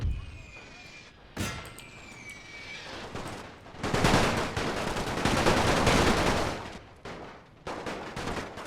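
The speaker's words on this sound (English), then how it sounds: "Keep on firing at these guys." Rapid rifle and machine-gun fire in a World War I-era battle in a Total War strategy game, dense overlapping volleys that swell into a loud sustained barrage midway, with sharper isolated cracks before and after.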